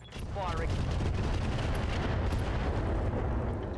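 Mech weapons in Battletech fire in a sustained, roaring barrage of heavy booms and rumbling blasts, dense and loud throughout with a faint chirping tone early on.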